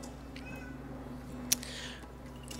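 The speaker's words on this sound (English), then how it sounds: "You know, my cats." Pet cats meow softly indoors, a few brief faint calls over a steady low hum, with one sharp click near the middle.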